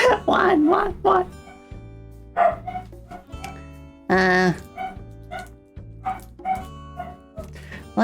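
A dog barks in bursts, a cluster of rapid barks at the start and a longer yelping bark partway through, over a low steady musical background.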